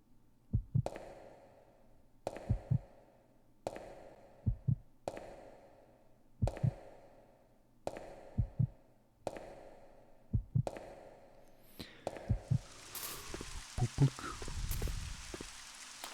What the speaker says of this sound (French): Le petit battement de cœur.